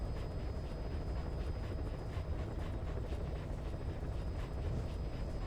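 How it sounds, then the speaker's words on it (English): Helicopter in the Metal Gear Solid V game, a steady loud rotor and engine drone holding constant throughout with no talk over it. "Yes, yes, helicopter."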